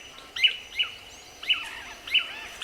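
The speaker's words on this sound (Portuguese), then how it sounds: "Os tangarás estão espalhados por toda a floresta" Tangará manakins calling in a Brazilian forest: four short, bright chirping calls spaced irregularly over a quiet background hum of insects, moderately close.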